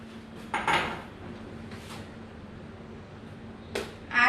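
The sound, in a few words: bowl being handled for whipped cream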